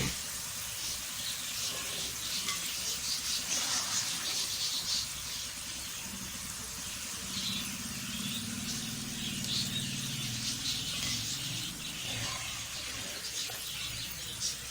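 Homemade potato chips frying in hot ghee over a very low flame, giving a continuous crackling sizzle with small pops and bubbling that stays fairly even throughout, with no talking.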